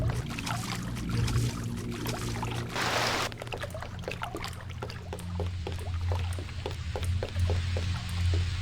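Splashing and sloshing water from swimming in the Deus Ex: Revision video game, with a burst of gushing noise early on followed by a series of short watery strokes and drips, close and moderately loud.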